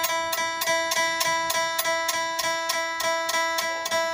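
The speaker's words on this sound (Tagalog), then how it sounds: "dapat ganyan yung tunog ng gitara nyo" A guitar's high E string sounds a bright sustained tuning tone, plucked again and again at an even, quick pace, ringing out clearly with no voices.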